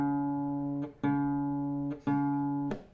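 A guitar D string tuned a quarter step down, plucked three times in a row as a sustained harmonic note under no talk, each pluck ringing out before the next attack.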